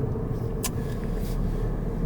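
Low, steady road rumble from inside a moving car, a constant engine and tire drone with a couple of faint brief clicks over it and no talking.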